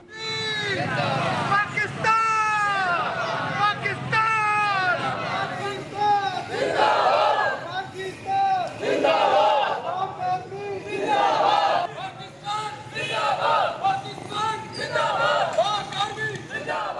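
Loud crowd chanting and cheering at street victory rallies in Pakistan, rhythmic shouted slogans and massed voices close by, rising and falling throughout.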